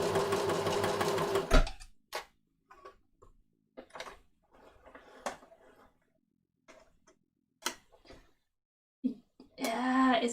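A sewing machine stitches thin fabric for a kid's jacket in short bursts of rapid mechanical chatter separated by quiet pauses, with a few isolated clicks and a brief voice at the start and end.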